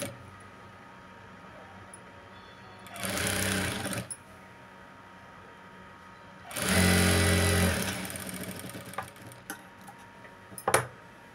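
A sewing machine stitches the lining of a blouse in two short bursts of rapid whirring, the second longer and louder than the first, with quiet pauses and small clicks between them.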